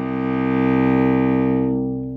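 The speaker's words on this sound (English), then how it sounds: "The cello is one of the lowest instruments in the family of string instruments because we can go all the way down to the C string" A cello bowed on its low open C string, one sustained, rich, steady note held for about two seconds and then starting to fade, played alone and close.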